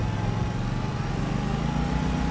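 A lawnmower engine drones steadily in the farming video game Farming Simulator 25, a continuous mid-pitched mechanical hum with a rough, buzzing texture and no voices.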